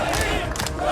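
A dense crowd at a funeral gathering in Jenin camp, Palestine, shouts together in a loud, continuous roar, briefly.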